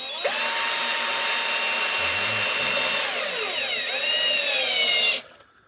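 A power drill drives a screw into wood during a woodcarving job, its motor whining steadily at close range for about five seconds before winding down, with no talking.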